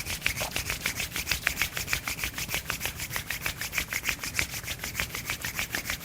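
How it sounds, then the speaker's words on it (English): Two palms rubbed briskly together in a quiet room, a fast, even series of dry swishing strokes repeating steadily throughout. "rub them together."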